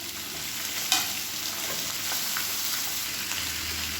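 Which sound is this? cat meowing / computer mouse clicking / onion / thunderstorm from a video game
onion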